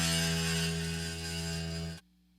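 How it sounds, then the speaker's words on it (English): Ibanez RG guitar set with low action rings out with a dense, buzzing, rattly sustained tone from the strings slapping the frets, loud and close, then cuts off abruptly, no talk. "the fret buzz sounds like this"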